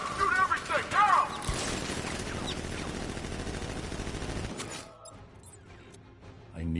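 Guards in a Batman video game open fire, a dense stretch of rapid rattling gunfire with scattered impacts that stops abruptly, leaving quieter ambient noise, while voices shout near the start.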